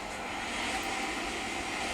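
An airplane engine in Resident Evil 6, the aircraft slightly damaged: a steady, broad engine roar holds evenly through the whole short stretch, with no talk.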